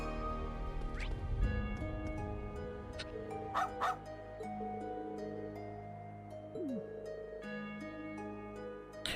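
A police dog in the video game Trails into Reverie barks a few times in short yips and whimpers, set over steady game music with a faint voice here and there.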